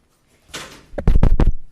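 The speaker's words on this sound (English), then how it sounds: "can we close that door so we don't get the noise?" A door swung shut in a room before a live morning broadcast: a soft swish, then a few loud, close thumps and rattles as it closes and latches.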